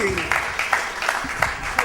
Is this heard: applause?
yes